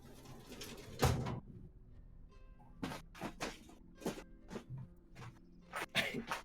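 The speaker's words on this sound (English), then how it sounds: "my desk is like metal, so it just makes noise whenever I open stuff" Drawers of a metal desk being opened and shut: a series of sharp clunks and scraping slides, spaced irregularly and fairly close, in an otherwise quiet room.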